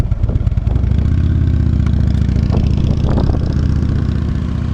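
A Harley motorcycle rides around in circles, its engine a loud, steady rumbling putt close by, with slight swells in revs as it turns; no talking.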